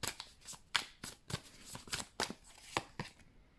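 Tarot cards are shuffled and drawn in a series of crisp, close card snaps and riffles, roughly a dozen sharp bursts at an uneven rhythm with no talking.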